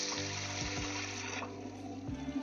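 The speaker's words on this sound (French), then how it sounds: "On va mettre de l'eau donc dans le canari." Water pours steadily into a clay canari pot, a continuous close splashing and gurgling stream that thins partway through, alone without talk.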